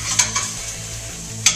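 Tempeh for tacos sizzles and fries in a pan, a close, steady crackle broken by a few sharp scrapes and taps of a utensil stirring it.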